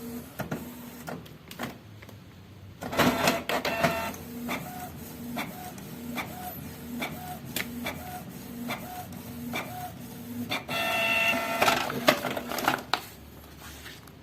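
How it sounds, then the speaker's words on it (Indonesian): A Canon G series inkjet printer runs a nozzle test print, with steady mechanical whirring, repeated rhythmic clicks and the shuttling of the print head, plus louder feed bursts, close and continuous for the whole stretch. "Lalu saya langsung proses cetak."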